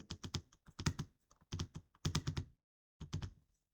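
Typing on a computer keyboard while entering text into an Excel spreadsheet cell, heard as quick clusters of crisp key clicks in several bursts separated by short pauses, close and clear with no talking.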